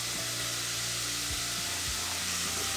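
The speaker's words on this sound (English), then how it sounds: "I'll throw in the onion" Chopped onion hitting a pot of cooking bacon, giving a loud, steady, close sizzle with light scraping and stirring and no talk.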